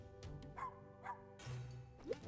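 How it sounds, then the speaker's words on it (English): A pet dog in the video game UnderMine gives a few short yips and barks over a steady low game-music hum, clear and close with brief gaps between calls. "but I do have a dog to pet"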